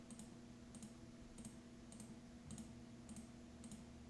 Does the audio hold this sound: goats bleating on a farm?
no